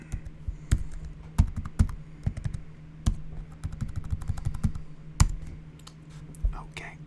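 Computer keyboard typing during a coding session: irregular, close, crisp key clicks and clacks in uneven bursts, with soft whispering between them.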